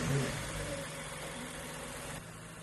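A Lexus car engine idles after being jump-started following a dead battery, a close, steady low rumble with a slight vibration and no voices.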